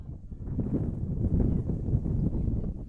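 Gusts of wind buffet an open soccer pitch during a Brookline versus St. John's Prep boys' match, a continuous low, rough rumble swelling and easing across the microphone.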